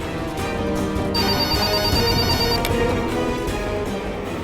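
A home telephone rings with a steady electronic tone over a loud television-drama music bed, one ringing burst running through the middle of the clip.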